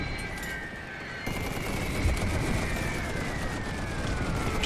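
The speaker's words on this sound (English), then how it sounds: "This machine gun is still operational." Sustained machine gun fire from a World War I battle in the strategy game The Great War 6.0, a dense continuous rattle of rapid shots over a steady din of battlefield noise, with no pauses across the span.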